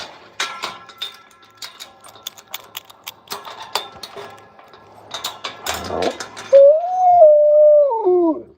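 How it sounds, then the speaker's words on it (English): Pet wolf Noonie greeting her owner with a run of yips and whimpering squeals, then a long wavering howl up close, along with a few mechanical clicks and rustles. "This is the only wolf I've ever had made such a noise."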